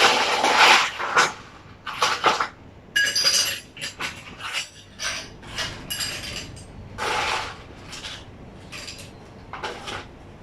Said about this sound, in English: So you make it full of ice.